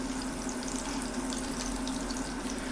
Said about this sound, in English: we're going to saute our lobster in there just to infuse the butter